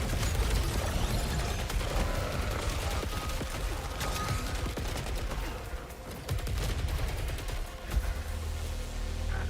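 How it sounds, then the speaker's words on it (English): Gunfire from the video game Saros, a dense run of rapid shots and mechanical clatter filling the whole stretch at steady loudness with no talk. "Who's shooting?"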